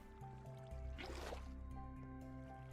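Water poured in Minecraft, heard as a short splashing gush lasting about half a second over a steady hum of game machinery and music.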